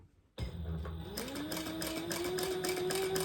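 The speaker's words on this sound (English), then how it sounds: "the next thing I'm gonna do is actually stitch on my little logo tag here" A sewing machine stitches a logo tag onto a purse with a 2.5 inch stitch length, a steady close whirring motor with rapid needle clatter that speeds up and continues without pause, with no talking.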